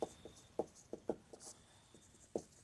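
Marker or chalk taps and strokes on a board while a vector algebra maths problem is solved, several quick close clicks and short scratches in an uneven rhythm over quiet room tone.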